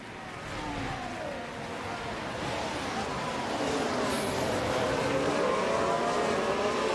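F1 race cars in the video game F1 Manager 24 at Australia, engines droning steadily and rising slightly in loudness as the pack runs on, with faint pitch sweeps of several cars together.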